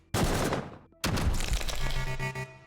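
An enemy's shotgun firing in the video game Quasimorph, two loud booming blasts about a second apart, each with a decaying rumble and clatter, close and without talk.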